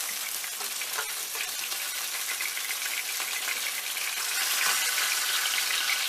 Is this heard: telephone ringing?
no